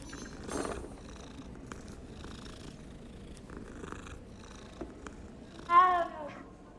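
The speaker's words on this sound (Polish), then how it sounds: "O, kotek, cześć." A cat in the video game Hogwarts Legacy purrs softly and steadily, then lets out one clear, louder meow near the end, set against quiet game ambience.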